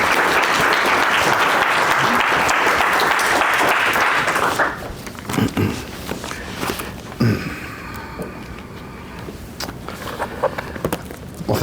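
An audience at an Ohio State lecture on Bruegel claps to welcome the speaker. Dense, loud applause fills the room for about four seconds, then thins to scattered claps, shuffling and footsteps.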